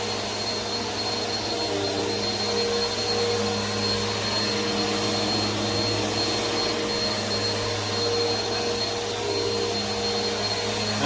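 Bissell Powerforce Helix 2191U upright vacuum cleaner running on carpet, a steady loud motor whine with a constant tonal hum that holds unchanged throughout.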